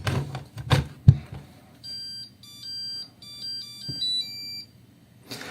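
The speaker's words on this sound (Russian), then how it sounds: "Вот такая музыка, когда мы ставим аккумулятор на дозарядку." A charger for a TPCELL 18V 8Ah battery built on 21700 cells plays a short electronic beeping melody as the battery is set on charge, preceded by clicks and handling thumps, close and clear.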